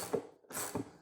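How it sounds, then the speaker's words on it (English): A hand ratchet works on a tight bolt on a Can-Am Spyder F3T motorcycle armrest, giving two short, close mechanical clicking strokes with a brief pause between them. "I probably should have grabbed my bigger ratchet."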